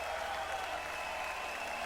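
A concert crowd applauds after a performance, a steady wash of clapping at moderate distance, sustained and even without breaks.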